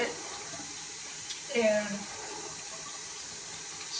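A tap runs steadily as a faint, continuous hiss of flowing water in the background, while a person talks over it.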